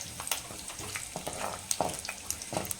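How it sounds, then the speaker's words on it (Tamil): Garlic frying in oil for a village-style Tamil keerai gravy, a soft, steady sizzle broken by crackles and small pops, with no talk. "எண்ணெயில் பூண்டை சேர்த்து நல்லா வதக்கலாம்."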